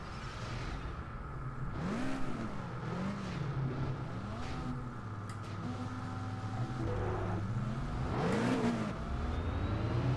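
A car engine revs up and down repeatedly, its pitch sweeping in arcs as the throttle is blipped, a steady mid-level drone with no talk over it.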